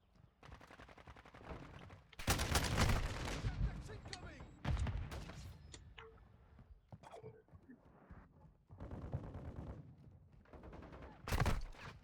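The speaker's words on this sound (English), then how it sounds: "Taking effective fire." Modern Warfare 2 gunfire: repeated loud bursts of automatic fire and single shots, close and clustered in several volleys, with quieter gaps of battle noise between them.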